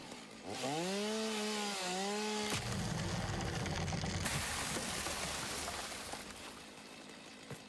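A video-game chainsaw revs up with a rising, wavering whine, then settles into a steady rough buzzing as it cuts, loud and continuous with no talking.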